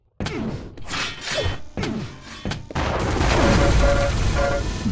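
Lightning gun firing in Quake Live during a competitive duel, a dense continuous crackling buzz that follows a few sharp weapon impacts and whooshes, loud and up close.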